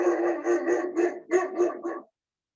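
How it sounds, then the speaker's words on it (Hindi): A dog gives a quick run of several sharp barks and yips at close range, then falls silent. "कुत्ता है, बड़ा डेंजरस कुत्ता है"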